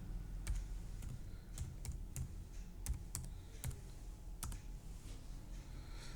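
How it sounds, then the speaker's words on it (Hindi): Typing on a computer keyboard while entering text into an Excel spreadsheet: scattered sharp key clicks in short bursts over a steady low background hum, close and moderately quiet, with no talking. "या डायरेक्ट हम पडौना टाइप भी कर सकते हैं यहाँ पे"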